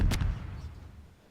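A firework explodes in Garry's Mod: one sharp, loud boom at the start, followed by a low rumbling tail that fades out over about a second.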